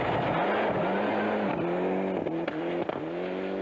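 A Toyota Celica GT-Four rally car on an icy stage of the 1995 Swedish Rally revs hard, its engine pitch rising and dropping through quick gear changes, loud and close.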